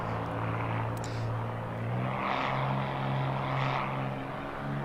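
Single-engine propeller drone of a Bonanza in cruise over Sequoia National Park in Microsoft Flight Simulator, a steady low hum with harmonic bands and two soft swells of broadband wind noise, continuous and alone.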